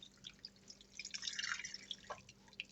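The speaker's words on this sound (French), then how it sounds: "donc on rajoute 500 ml d'eau chaude" Hot water pours into a pot of beef stew with a soft, splashing, bubbling trickle that swells in the middle and tapers off, close and fairly quiet.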